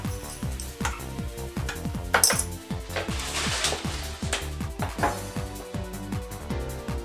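A metal teaspoon tapping and scraping rhythmically against a saucepan while stirring instant coffee into white hot chocolate: quick, regular clinks repeating steadily, close and fairly quiet.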